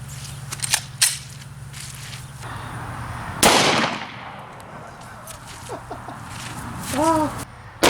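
Shots from an Underwood Xtreme Hunter 10mm fired at a pineapple, a few sharp cracks spaced out among outdoor background noise, one especially loud near the middle, with voices heard faintly.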